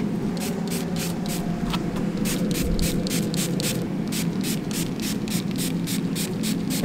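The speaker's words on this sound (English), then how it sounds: "I'm just gonna spray it with some high shine." High-shine balloon spray hissing onto a party backdrop outdoors, delivered in a rapid series of short bursts over a steady background hum.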